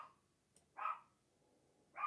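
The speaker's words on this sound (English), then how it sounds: "My dog is barking again" A dog barks indoors, two short distinct barks roughly a second apart, faint and somewhat distant, with a brief quieter yip before them and a quiet background otherwise.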